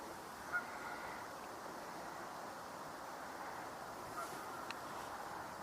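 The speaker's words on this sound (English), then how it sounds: "Oh, wood duck." Faint, distant calls from a couple of male wood ducks drift over steady outdoor wind and background hiss, with brief soft squeals near the end.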